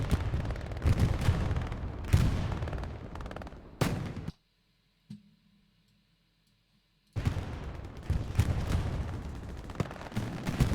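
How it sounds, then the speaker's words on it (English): Heavy artillery and gunfire rumble through a WWII online battle on the Utah map, 38th Infantry against 82nd Airborne, with dense bursts and booms, a sharp sudden cut to near silence midway, then the barrage roaring back loud. "this is really damaging artillery"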